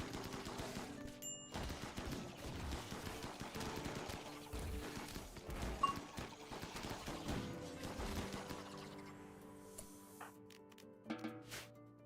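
Friendly gunfire in the RimWorld game crackles as dense rapid bursts of shots throughout, fairly faint, thinning out toward the end into a few scattered pops.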